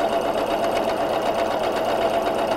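A Pfaff Ambition 610 sewing machine free-motion quilting with a hopping foot runs in a steady, fast mechanical whir, with rapid, even stitch taps carrying on at constant loudness throughout.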